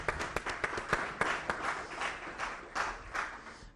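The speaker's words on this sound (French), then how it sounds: "Si on peut acclamer pour Maître Avatar." An audience gives a dense, sustained round of clapping for a guest at a French-language gathering, steady and fairly loud throughout with sharp individual claps standing out from the crowd.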